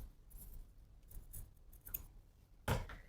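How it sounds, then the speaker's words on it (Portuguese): Scissors cutting fabric for a Chanel-style tweed jacket, a close crisp snip standing out near the end after quieter rustling handling of the material. "Então eu vou medir o tamanho que eu preciso. Já vou cortar."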